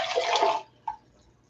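Water pouring in a short splashing gush that stops abruptly, followed by a single soft splash or drip, close and alone without talk.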